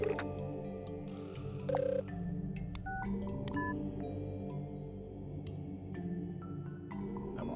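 A cell phone in the video game The Write Stuff: The Mermaid Mask gives a series of short electronic beeps and dial-like tones at irregular intervals over a dense, continuous musical background.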